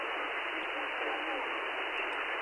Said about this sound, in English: So this is a list of like military radio signals. They each have like their own visual cues and sound.